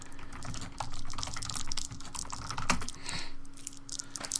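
Rapid computer keyboard typing clicks away steadily across the clip during a private lobby setup for an esports league match, a constant electrical hum sitting underneath the irregular keystrokes.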